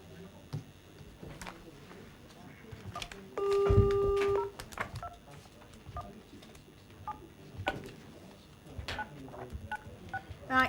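Telephone dialing tones sound in a council meeting room: a run of short electronic beeps followed by one longer steady tone, heard over faint room noise and scattered background talk.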